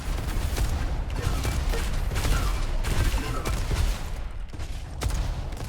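Rocket fire in a fast arena video game, a steady dense barrage of launches and blasts with repeated sharp bangs filling the whole stretch, loud and continuous.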